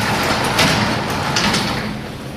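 A garage door slides along its track as it is moved by hand to test its balance. A continuous rolling rumble is broken by a few faint clicks and scrapes, close and steady, with no talking.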